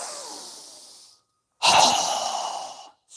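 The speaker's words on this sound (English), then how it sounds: "exhale with a strong breath with our mouth open wide" Two strong open-mouthed exhales during a yoga breathing exercise: a fading breathy rush, a brief silence, then a louder, forceful whoosh of air that trails off, close to the microphone with no talk.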